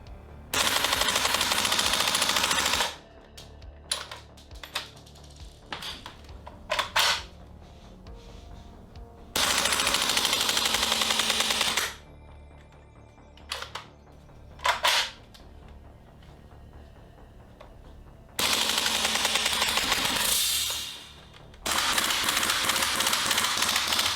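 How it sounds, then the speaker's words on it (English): A VFC MP5 gas blowback airsoft SMG fires loud, sharp full-auto bursts of a few seconds each, separated by quieter gaps with scattered single clacks. "When shooting is concerned, the VFC MP5 really comes into its own."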